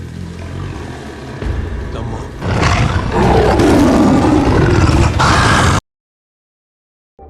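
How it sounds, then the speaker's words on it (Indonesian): A saber-toothed tiger roars while it chases its prey. The growl starts low, then builds into a loud, close roar that holds for several seconds and cuts off abruptly. "Tiba-tiba saja harimau bergigi pedang muncul dan mulai mengejar mereka."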